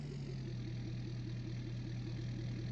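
A tractor engine idles steadily in the Farming Simulator 19 video game, a loud, close, even low rumble with a regular pulsing chug that carries on throughout and has no talking over it.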